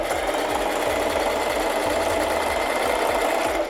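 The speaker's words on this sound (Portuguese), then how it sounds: "Olha aí, ó, costura zigue-zague" A Singer Facilita Pro 4423 sewing machine stitches a zigzag seam at low speed, its rapid, even mechanical thumping running steadily and close up with no talk.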